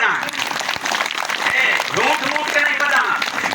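Applause from a village audience at a humorous Hindi public speech, a dense steady patter of many hands clapping with crowd voices mixed in throughout.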